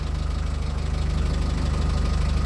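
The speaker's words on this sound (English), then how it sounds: "Can you hear the engine?" A cart's newly replaced engine runs steadily, loud and close, in an even rapid pulsing idle throughout, alone with no talk.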